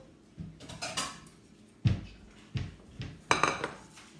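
Ceramic bowls and metal utensils clatter in a kitchen in a string of sharp knocks and clinks, about five distinct impacts with quieter rattling between them, close by and without talk.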